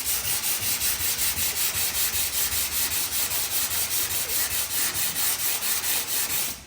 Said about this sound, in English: we need to sand a little bit more in this area to get it that body line shaped